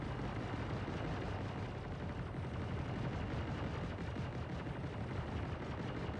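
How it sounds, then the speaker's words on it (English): Station turrets in the space game Star Citizen fire in a dense, continuous barrage, a low rumbling wash of distant blasts heard faintly and without pause. "Sounds like the station turrets are going nuts."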